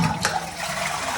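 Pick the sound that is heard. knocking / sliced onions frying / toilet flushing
toilet flushing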